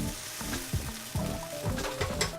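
Mushrooms and peppers sizzle and fry in olive oil in a pan for a cheesesteak, with a steady close crackle and a few sharper scrapes or stirring bursts throughout.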